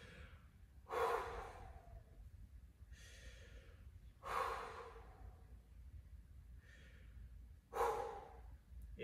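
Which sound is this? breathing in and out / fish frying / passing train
breathing in and out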